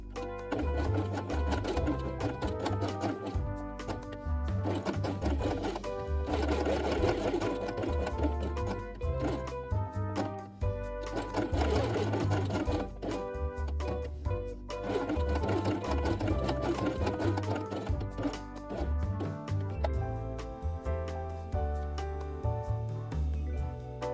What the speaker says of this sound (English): sew them on the machine with white thread